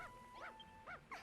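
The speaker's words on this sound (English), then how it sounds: "Puppy!" Short yips from a puppy in Dragon Quest Builders 2, three rising-falling barks spaced evenly over a quiet game backdrop with steady tones, closing on a brighter burst of sound.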